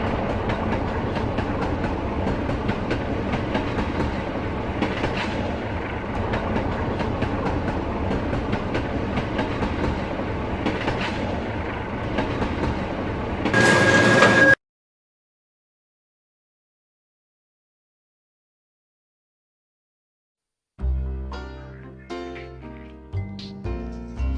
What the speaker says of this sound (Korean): 이 실험이 이루어진 곳은 바로 서울의 지하철 객실 안입니다